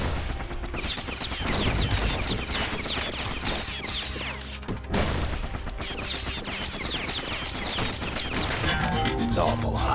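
Shooting at an enemy in the video game Bastion: loud, dense game gunfire and impacts over a busy musical soundtrack, continuous for the whole stretch, with a brief dip midway.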